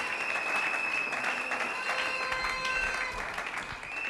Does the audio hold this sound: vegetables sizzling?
no